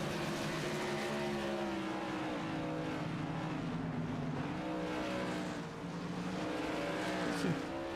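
A Whelen Modified race car in iRacing drones steadily while it pulls into the pits at Five Flags, its engine tone rising and falling close by with no break.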